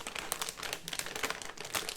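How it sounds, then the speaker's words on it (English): A crinkly chip bag is being folded shut up close, giving a steady two-second stream of dense, bright rustling and crackling with no voices. "I know I have to close the bag, and unfortunately chip bags are made to be loud."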